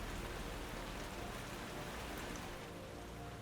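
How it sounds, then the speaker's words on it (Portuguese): Steady, dense rainfall pouring down continuously at an even loudness, a close hiss of drops on surfaces with no voices over it. "as chuvas continuaram a cair dos céus durante mais 40 dias e noites"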